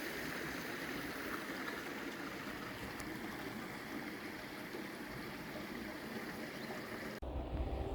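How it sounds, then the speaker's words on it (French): Hot spring water pours steadily into an outdoor thermal bath at Arnedillo, a constant broadband rushing that fills the whole clip before cutting off abruptly near the end. "Et là, tu as l'arrivée de l'eau chaude"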